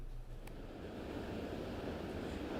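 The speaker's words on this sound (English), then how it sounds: "The waves behind me right now are crashing into the rocks, and I can even hear how loud they are." Ocean waves crash against the rocks at Sunset Cliffs, making a steady, faint, distant wash of surf with wind noise mixed in.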